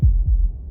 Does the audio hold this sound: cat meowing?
no